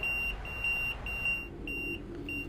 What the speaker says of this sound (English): my fire alarm is going off